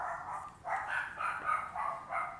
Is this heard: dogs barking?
yes